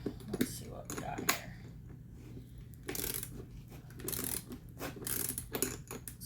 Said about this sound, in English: And then we'll put our little screw on there. And screw it down.